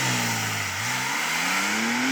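A manual Porsche 911 Sport Classic accelerates hard from 0 to 60, its engine loud and close with a steadily rising pitch and a brief dip at a gear change.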